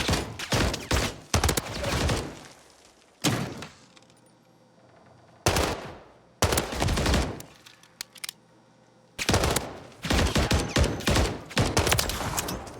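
Pistol gunfire in a Call of Duty match, several bursts of sharp rapid shots separated by quiet gaps, loud and close, with no talking over the shots.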